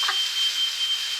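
Kitchen smoke alarm going off with a steady, piercing high electronic tone that holds loud and continuous through the whole moment.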